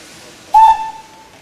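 A steam locomotive on a trial run at a steam festival makes its first wheel turn: a sudden, close, whistle-like hiss of steam bursts in, holds a steady tone, then thins out and fades.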